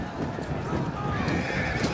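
Parthian horse archers' mounts in a Total War Rome 2 battle: whinnying and hoofbeats blended into a dense, continuous battlefield din of clashing units and crowd noise, with no clear speech.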